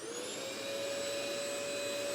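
A Hoover vacuum cleaner runs steadily with a constant high whine and broad airy roar, unbroken and fairly close, no voices.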